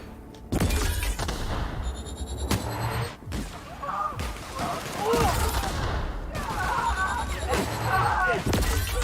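Guns firing in The Outer Worlds, several sharp bursts and shots scattered among rumbling game action, with a voice talking over parts of it.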